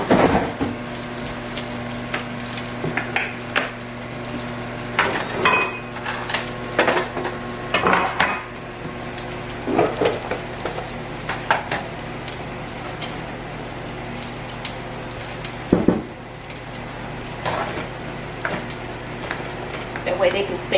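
Salmon patties frying in a pan on a home stove, a steady close sizzle running throughout with scattered clinks and scrapes of utensils and dishes over it.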